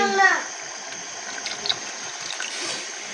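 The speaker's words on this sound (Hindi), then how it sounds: "अब मैं इसमें पानी ऐड करूँगी ताकि ये दालें गल जाएं" Water is poured from a tap or vessel into a pot of lentils in a home kitchen, a steady splashing stream that runs throughout after a brief louder start.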